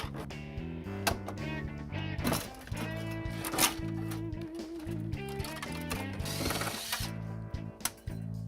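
A ratchet working screws out of an old residential electric panel, rapid clicking pawl bursts repeating close and fairly loud, with a voice talking intermittently underneath.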